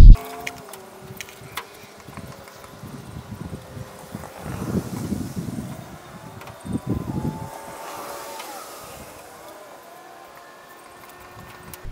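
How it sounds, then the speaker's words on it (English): Wind blowing outdoors beside a car parked for work on its hood, heard as uneven gusting rumble and buffeting against the microphone, rising and falling over several seconds with no speech. "I forgot that the wind exists"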